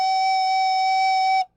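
Recorder sounding a single sustained F sharp: a clear, steady, pure-toned whistle-like note held about a second and a half before stopping cleanly, alone with no talk.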